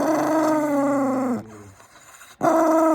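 Rusty the dog gives a sustained low, throaty vocalization that breaks off briefly and then resumes, close and loud, with no one speaking over it.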